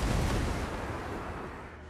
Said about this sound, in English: Oh, one more volley.